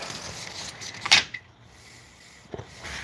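A door opens with a short, sharp click and clatter of the latch, then a second fainter knock a moment later, set against quiet room hiss and no speech.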